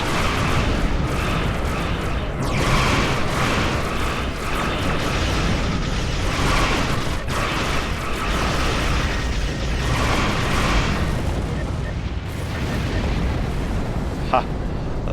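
Starship weapons blast against Breen ships in the Star Trek Online video game, with sustained rumbling explosions, bursts and mechanical clatter throughout, a voice speaking over the battle.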